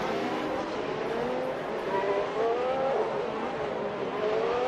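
Mercedes-engined Formula 1 cars racing at Suzuka in the Assetto Corsa video game, a loud, continuous high engine whine with rising and falling pitch as cars accelerate and shift, steady throughout with no talking.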